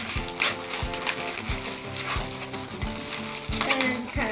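Latex balloons squeak and rub in a fast, uneven run of rubbery chirps as string is wrapped around their joined necks to form the base of a balloon hat; close and fairly steady.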